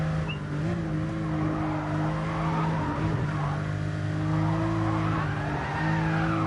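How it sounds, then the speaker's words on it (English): A car drifts in a racing video game, its engine droning at a sustained pitch under a long, loud, wavering tire squeal that runs throughout without a break, close and dense, with no talk. "Driving it more like a drift car now really than a proper sensible drive"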